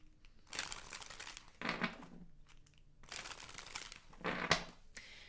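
A tarot card is drawn and handled from the deck, with bursts of papery rustling, sliding and crinkling in several short clusters, close and fairly quiet, separated by brief pauses.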